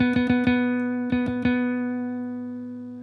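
A guitar note on the fourth string at the ninth fret, from a C sharp minor pentatonic position, is plucked several times in quick clusters, ringing out clearly and then sustaining and slowly fading with no talk over it.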